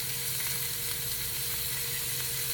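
Meat frying in olive oil in a pan, a loud, dense, continuous sizzle and hiss heard up close with no talk.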